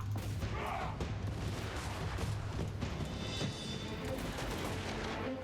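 Gunfire from troops in the Total War Warhammer video game crackles steadily as a dense, continuous battle din under a low rumble, with no clear breaks between shots.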